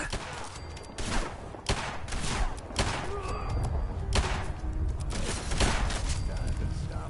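Gunfire in the video game Fallout 4 Far Harbor: repeated loud shots and thuds crack out over rumbling combat noise, with a voice speaking in between.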